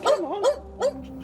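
A police dog, backed into a narrow gap between a garage and a fence, lets out three short, close barks with a yelping, whimpering edge in quick succession.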